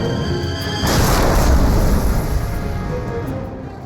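A Panther tank's main gun, with its long 5.5-meter barrel, fires once: a single loud, sudden boom that rolls into a long, heavy rumbling decay, with no voices.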